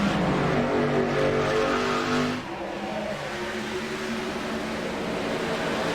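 Race trucks roar out of turn 4 at Darlington, with a loud pack of engines revving and droning close by before the sound drops and thins into a steadier, more distant engine hum.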